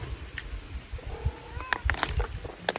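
A pet cat named Cleopatra gives a few short, close meows over a faint, uneven background rumble.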